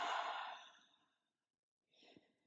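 A single cleansing exhale through an open mouth during a yoga flow, a breathy sigh-like rush that fades over about a second, followed by quieter breathing sounds and a soft click.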